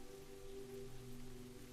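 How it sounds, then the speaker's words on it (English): Steady soft rain patters on a roof and glass skylight, a faint even wash of drops with a low background hum and no voices. "The sound of that rain pitter-pattering against the roof and the glass"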